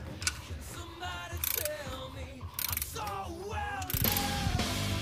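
A hand ratchet clicks in quick bursts while fitting a water pump on a Cutlass, with metallic ticks and tool rattles close by and steady background noise throughout.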